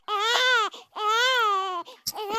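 An infant wails in loud, sustained cries, two long bawling bursts separated by a short gasp, with a third cry beginning, close and clear with no talk over it, heard in a modern staging of a legend performed as school theatre.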